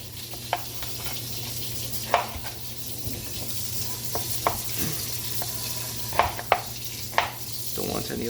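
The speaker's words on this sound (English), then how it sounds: "I'm going to start with my guanciale because that's going to have to render for a bit" Guanciale with its rind removed renders in a pan for carbonara, giving a steady low sizzle broken by sharp clinks and scrapes of a utensil stirring against the pan at irregular intervals.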